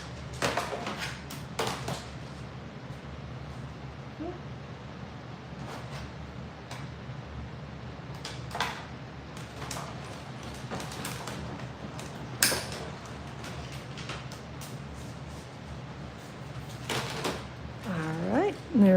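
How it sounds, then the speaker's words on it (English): A die cutting machine rolls paper through to cut and emboss it, giving a steady mechanical grinding with clicks and creaks, heard beneath continuous talking. "we're just going to run it through the die cutting machine, so it's going to cut and emboss as I run this through here"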